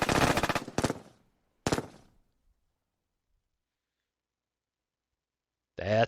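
Gunfire bursts from the Lock N' Load Tactical video game, Heroes of the Nam: a loud rattling volley, a second short burst, then a single crack, followed by silence and a final loud burst at the end.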